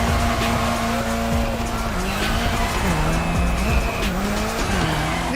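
Tires of a Drift Queen Lancer Evo 6 squeal continuously while drifting around an airport course in The Crew Motorfest, a loud sustained wavering screech over a revving engine.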